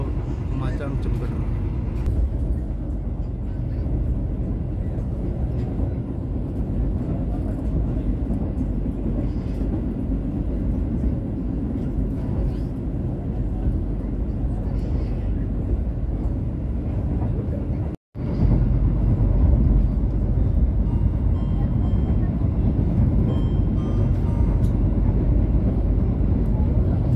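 Pandalungan passenger train running between Jakarta and East Java, a steady loud rumble of rolling stock heard from inside the carriage, with a brief dropout near the end.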